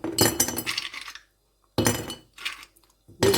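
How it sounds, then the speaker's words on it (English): Ice cubes clatter and clink into a cup, several bright knocks in separate bursts with short silences between them. "So I'm gonna put in my block first, my ice cube."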